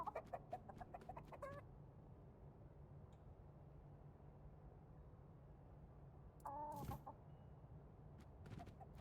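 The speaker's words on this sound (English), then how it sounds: "Is that chicken pushing me around?" A chicken in the video game Tainted Grail gives a short burst of clucks at the start and another near the end, faint over a low ambient hum.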